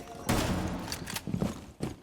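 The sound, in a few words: gunfire shooting radios in video game Rainbow Six Siege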